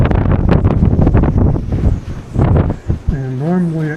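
Wind gusts roar steadily outdoors beside a 1917 farmhouse, buffeting the microphone, with someone talking over it near the end.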